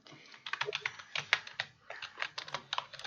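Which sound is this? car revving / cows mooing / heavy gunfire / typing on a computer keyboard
typing on a computer keyboard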